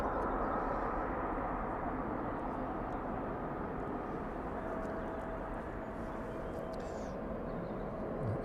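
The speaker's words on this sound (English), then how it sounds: "Safely touching down those first thrusters, just deploying in the distance there." An airliner rolling out after touchdown at East Midlands Airport with its thrust reversers deploying, heard as a steady, broad distant roar that holds evenly throughout.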